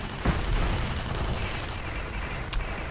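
A base turret fires in the Drydock map of a competitive team shooter match, giving a loud, rough blast of gunfire with a short sharp crack near the end.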